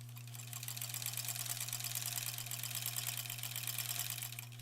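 A sewing machine runs steadily through long quilt sashing rows, a constant mechanical hum with a fast rapid needle clatter, close and continuous with no talk.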